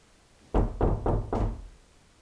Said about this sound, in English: I'm gonna knock. Can you knock back?